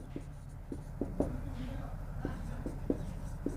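Chalk or marker writing on a board during a Hindi-language chemistry lesson on metallurgy, a series of short taps and scratches spaced irregularly, close and moderately clear over a low room hum.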